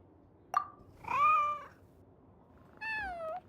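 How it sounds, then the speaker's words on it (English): A cat in the Genshin Impact video game gives a short chirp followed by two clear, drawn-out meows, heard close and alone against a quiet background. "Here, kitty, kitty. That's it, Snowball. Good kitty"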